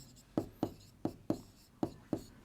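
Chalk or marker tapping and stroking on a board during a class 6 algebra lesson, six short sharp strikes arriving in a loose rhythm, close and fairly quiet, with no voices.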